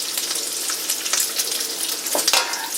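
Bacon strips sizzle and crackle steadily in a hot pan, a dense continuous fry with scattered sharper pops and brief spatters, close and fairly loud with no voices.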